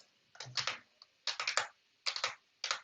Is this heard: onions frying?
no